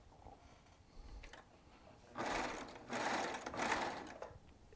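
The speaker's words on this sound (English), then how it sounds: "I'm going to sew these two strips together just like we did before." A Baby Lock Triumph serger stitching two fabric strips together runs in three quick bursts of rapid whirring, starting after a quiet pause, close and fairly loud with short gaps between runs.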